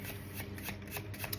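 Playing cards are shuffled in quick, repeated riffling bursts close to the microphone, a soft papery flutter with no talking.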